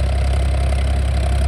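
A Farmtrac 60 tractor engine idling at slow rpm after tappet and pump setting, a loud, steady low diesel rumble heard up close with no voices.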